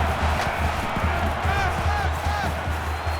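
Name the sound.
stadium crowd cheering in video game NCAA Football 21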